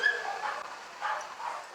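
A small dog in a stroller at an outdoor pet parade gives faint, thin whimpers and yips at a distance, with crowd noise around it.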